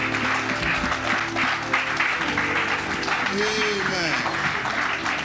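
Church congregation at a Christmas Sunday celebration clapping continuously in a dense, sustained wash, with voices and cheering mixed through the applause.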